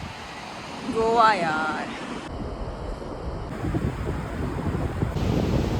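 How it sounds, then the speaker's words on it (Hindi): Waves and wind at Canacona Beach in South Goa, a steady broadband wash of surf with microphone wind buffeting throughout, briefly under a voice speaking near the start. "so this is the Canacona beach of south Goa"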